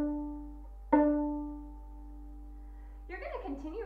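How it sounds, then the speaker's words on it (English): Open D string on a violin or viola, bowed as a steady sustained tone with a fresh bow stroke near one second, fading before a brief voice starts at the end. "And the D string sounds like this."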